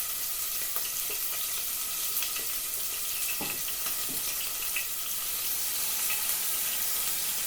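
Chicken pieces frying and spitting in a hot pan for a creamy chicken and mango curry, a steady dense sizzle with scattered sharp pops and crackles, close and continuous.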